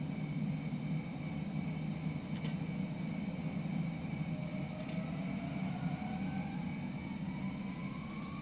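Airbus A320 engines in a flight simulator rising toward takeoff thrust, a steady broadband roar with a high whine sweeping upward, moderately loud and continuous, with no voices.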